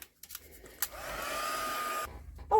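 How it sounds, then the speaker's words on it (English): Heat gun drying a first layer of paint on a botanical journal cover, a steady whooshing blower roar that switches on after a click, holds for about a second, then cuts off, close up. "I'm just going to put my heat gun on and just dry off that just first layer of paint"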